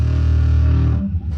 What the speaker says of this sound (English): Distortion.